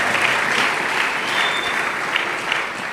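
A church congregation applauds in a sustained, dense wash of clapping that stays loud and even throughout, with no pause.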